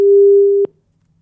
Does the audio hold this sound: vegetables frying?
no